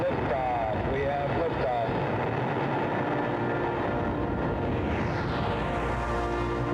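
Rocket lifting off with all engines running, a sustained, loud, heavy roar and rumble that stays constant, with a spoken voice-over early on.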